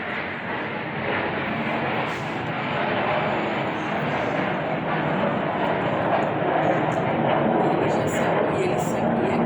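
An airplane passing overhead produces a steady, broad engine roar that holds level and swells slightly toward the end, running beneath ongoing speech.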